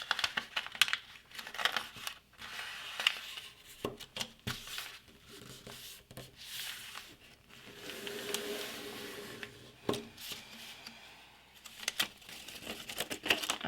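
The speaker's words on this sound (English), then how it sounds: "turn the paper over, so it's like this, fold down on this crease, and then fold this edge" Origami paper being folded along creases for a sea turtle, close and quiet: crisp crinkles, soft rustles and sharp little creasing taps scattered unevenly, with no talking.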